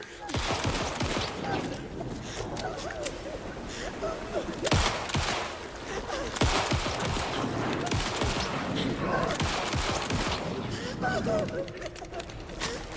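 Rapid bursts of gunfire in the horror shooter Alan Wake II, dense volleys of sharp shots repeating for several seconds with a player voice talking over the action.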